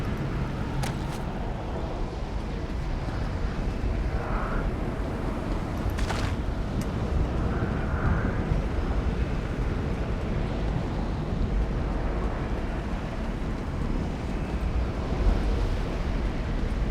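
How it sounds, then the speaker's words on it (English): Loud, steady wind roaring through an outdoor area in Elder Scrolls Online Greymoor, a constant broadband gust that fills the whole stretch with no pauses. "that wind noise is loud"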